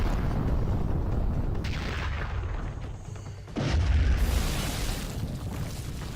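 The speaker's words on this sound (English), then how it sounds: "That's a rocket." A rocket explodes in an animated fight between Venom and Bane, a loud sustained boom with a deep low-end surge about midway, sitting over a dense, continuous rumble of battle noise.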